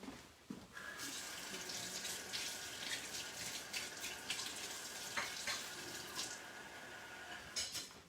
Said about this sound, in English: I'm going to get some lukewarm water and put it in this dish